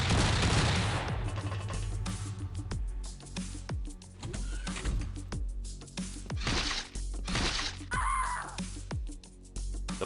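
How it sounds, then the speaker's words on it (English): A boarding gun blazing in the video game XPiratez, a dense run of loud rapid shots and sharp cracks over a booming low rumble, continuing with barely a pause throughout. "That's a boarding gun."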